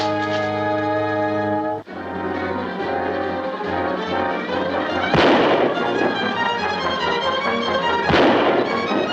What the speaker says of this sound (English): Shots came from there.